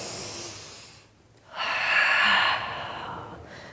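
During a Pilates reformer class, a deep, breathy exhale swells strongly and then fades over about a second, following a softer earlier breath against steady room noise.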